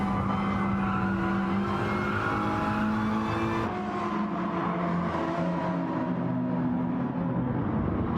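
Race cars power around the Dragon Trail Gardens circuit in a racing video game, with a loud, continuous engine drone and layered motor tones. The pitch shifts partway through as the cars change pace, and no one speaks.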